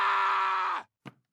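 A loud, sustained, strained scream comes from the Scream in a Box product in Family Guy, cut off abruptly and followed after a brief silence by a short grunt.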